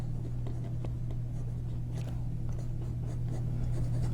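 A Waterman fountain pen glides across paper in soft, scratchy strokes, faint beneath a constant low electrical hum.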